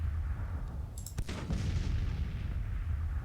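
Artillery fire in Grand Tactician: The Civil War, a single sharp cannon report over a steady low rumble of battle ambience, fading into a lingering echo.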